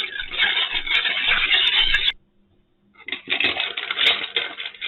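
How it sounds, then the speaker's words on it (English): A cocktail stirred with ice in a shaker makes a busy, continuous clinking and rattling close by, which breaks off for about a second before resuming just as steadily. "once we have all our ingredients in the shaker, we want to give it a stir"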